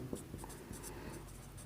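Chalk or marker scratches and taps against a board during a class 11 chemistry lecture, a soft run of short strokes heard faintly over room noise.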